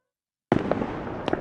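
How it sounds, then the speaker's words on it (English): Fireworks burst in the night sky after a moment of silence, one sharp crack followed by crackling and a second smaller pop, heard from a moderate distance. "Suddenly, fireworks whisk up and explode like colorful flowers in the night sky"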